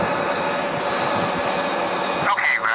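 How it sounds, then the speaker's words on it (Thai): Airplane engines roaring loudly and steadily as the aircraft starts rolling on the runway in a plane-crash survival video game, with a brief shift in tone near the end. "ตอนนี้เครื่องบินเริ่มขยับแล้วนะครับ"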